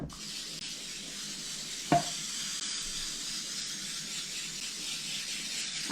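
A cake pan is sprayed and greased, giving a steady hiss close by for several seconds, broken once by a brief sharp click.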